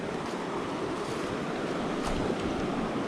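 A flowing river in a gorge rushing steadily, a broad continuous roar of water with some wind noise, no voices.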